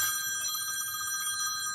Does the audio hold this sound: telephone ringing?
yes